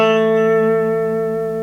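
One guitar note played on the 3rd string at the 2nd fret during a beginner lesson, already ringing and slowly fading over under two seconds, close and alone.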